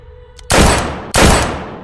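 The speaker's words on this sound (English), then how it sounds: "There was the sound of 2 gunshots" Two loud gunshots crack out about half a second apart, each a sharp broadband blast with a ringing decay, following a brief faint click in an otherwise quiet audiobook sound effect.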